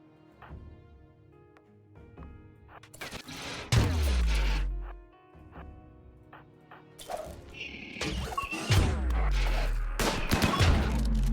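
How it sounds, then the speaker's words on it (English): Gunfire in the video game RimWorld, with bursts of rapid shots and heavy booming impacts crashing in repeatedly, loud and dense, with short quieter gaps between volleys. "the friendly fire is too insane"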